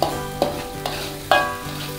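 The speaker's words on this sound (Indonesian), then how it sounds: "Kita aduk-aduk Sampai bumbunya harum." A spatula scrapes and stirs spice paste frying in a wok, four distinct scraping strokes over a steady close sizzle, loud and without voices.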